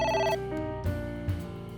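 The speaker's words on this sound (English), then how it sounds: "It won't stop ringing." A telephone rings in the video game AI: The Somnium Files, a loud, continuous electronic trill with layered tones, heard alone and close.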